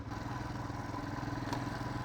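Motorcycle ridden on a mountain road near Chitkul in Spiti, a steady close engine drone with continuous rhythmic throbbing and wind, no voices.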